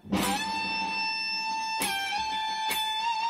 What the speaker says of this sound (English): I'm going to re-pick the note and slide it up to the 17th fret.